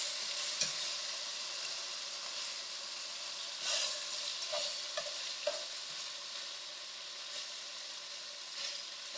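Eggplant sautéing with oyster sauce in a pan hisses in a steady, close sizzle, broken by occasional scraping stirs of the spatula, with no talking.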